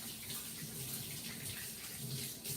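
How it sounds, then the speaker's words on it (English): Hands washed under a running tap, a steady faint rush of water with soft splashing changes as the hands move beneath the stream, no talk. "While your grease get hot, wash your hands."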